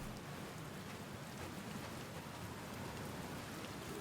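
Steady, dense rain and stormy weather in the video game Outer Wilds, a constant even wash of falling water with no breaks, alone and fairly quiet throughout.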